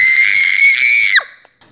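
A woman screams loudly in a sustained, high shriek, cartoon-story style, holding steady for over a second before sliding down and breaking off abruptly, followed by a faint trailing noise.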